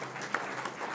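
An audience applauds in a short, dense patter of many hands, steady and moderately distant, with no voices standing out.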